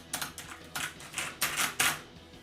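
Keys pressed on a computer keyboard with a stuck Shift key: about six distinct, fairly loud clacks at irregular intervals, close up and without talking.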